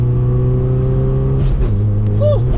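A BMW with a Stage 1 tune pulls hard under acceleration, its steady engine drone rising close and loud, then breaking off sharply at a hard gear shift before climbing again, with a brief high squeal near the end.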